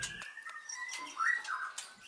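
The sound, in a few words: murai batu (white-rumped shama) bird singing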